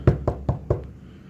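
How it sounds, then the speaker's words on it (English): Four even knocks on a door in quick succession, close and clear, then silence. "The door knocked"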